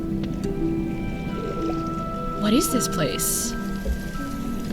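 Game water splashing in Greak: Memories of Azur as the character enters and swims, a short burst of splashes in the middle under background music, with a voice speaking over it.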